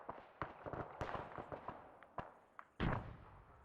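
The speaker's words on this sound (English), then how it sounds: "Now you hear them shoot." Gunfire in a video game as groups of combatants shoot, heard as a scattered series of sharp, distant pops and cracks at an irregular rhythm, ending in a louder, heavier burst.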